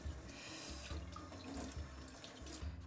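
Tap water runs steadily into a sink as leeks are rinsed under it, close and continuous with light splashing and shifting flow as the stalks are moved.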